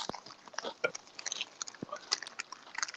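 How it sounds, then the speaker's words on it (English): Chips being chewed close to the mic, heard as quiet, irregular crunches and clicks over about three seconds, with faint mouth noises in between. "Yeah, I'm crunching up on these chips."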